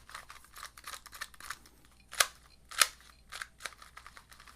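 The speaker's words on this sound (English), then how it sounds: "A little bit of spring noise here." A TengYun 2x2 speed cube is turned by hand close up, producing quick, light plastic clicks and a faint springy rattle, with two sharper snaps standing out among the rapid turns.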